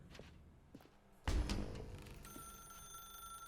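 Telephone ringing in The Stanley Parable, a sudden loud burst then a sustained electronic ring tone that holds steady, with faint footsteps beforehand in a quiet room.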